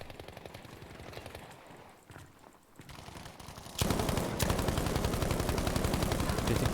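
Rapid automatic gunfire rattles through a competitive shooter match, quieter and more distant at first, then suddenly loud and close in sustained bursts with no talking.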